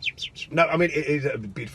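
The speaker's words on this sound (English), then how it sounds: "you can hear the birds singing" Birds chirp in a music track, with a few quick high tweets at the start and again near the end before someone talks over them.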